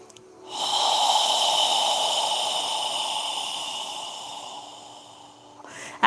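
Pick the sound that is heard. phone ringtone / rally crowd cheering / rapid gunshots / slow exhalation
slow exhalation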